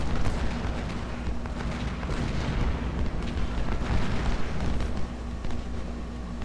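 Civil War artillery in Ultimate General: Civil War at Bull Run roars in a dense, continuous barrage of overlapping booms and rumbling blasts, loud and unbroken throughout.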